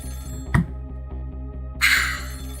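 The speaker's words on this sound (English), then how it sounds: "About 2 hours before dawn, the phone rang." A telephone rings in the Ghost Trick video game, a bright electronic ring bursting in near the end after a single dull thunk, over soft steady background music.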